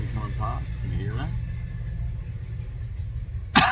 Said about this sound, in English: I've got a train coming past